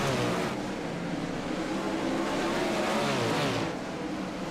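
Race cars roar in a sim racing game during a late-race pack battle, a dense, steady engine drone with rising and falling whines as cars pass close, continuous and loud with no talk.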